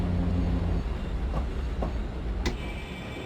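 Tram from Train Simulator Classic pulling into Wimbledon tram platforms, a low rolling rumble with a tonal hum fading early, faint clicks and a sharp brief squeal or clank partway through.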